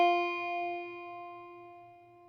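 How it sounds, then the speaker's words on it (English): One guitar note is picked with the index finger on the first fret of the high E string. The attack is bright and close, then it fades steadily with no voices. "place it on the very first fret of the very first string, E. It should sound like this."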